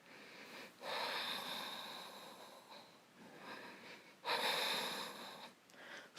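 Deep, audible breaths through the nose during an intermediate yoga leg-raise pose: two long, airy, close-up breaths, each rushing in strongly and tapering off, separated by a quieter pause.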